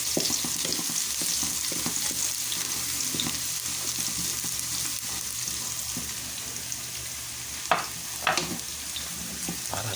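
Menudo cooks in a frying pan with a loud, steady sizzle. A few louder clatters near the end sound like stirring.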